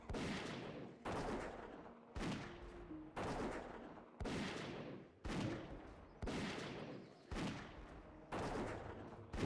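Rapid bursts of gunfire repeat about once a second in World of Warcraft Classic as ammunition runs down, each sharp crack trailing off before the next, loud and steady with no talk over them.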